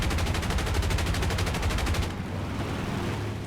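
Aircraft machine guns fire in War Thunder, a loud, rapid rhythmic burst of gunfire lasting about two seconds before cutting off, leaving engine drone and a low rumble of combat underneath.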